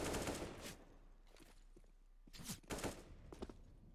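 USP pistols fire back and forth in a Counter-Strike duel, as several sharp, quick gunshots in small clusters at moderate loudness.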